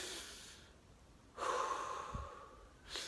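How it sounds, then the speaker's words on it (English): A deep breath drawn in and released during an abdominal exercise, an audible, airy inhale followed by a softer exhale, close and quiet after a brief earlier breath. "And then breathe in and release."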